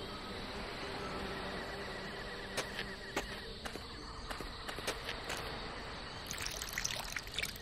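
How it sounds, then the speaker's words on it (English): Water trickles and seeps into broken earth beneath a paving stone in The Book of Unwritten Tales, a soft steady dribble joined by light tapping clicks that grow busier toward the end, quiet and close. "The earth is sucking the water up like a sponge."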